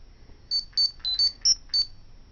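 Phone dialing beeps, six short, bright electronic tones in quick even succession, fairly loud and close with no voices.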